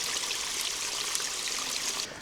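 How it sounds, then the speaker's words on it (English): A small waterfall on a farm stream in central Portugal trickles and splashes steadily, a continuous bright watery hiss that holds even throughout before thinning slightly at the very end. "we've got this lovely little waterfall just trickling down here"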